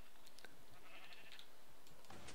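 Minecraft sheep bleat in several short, overlapping cries over a faint background, fairly close and clear.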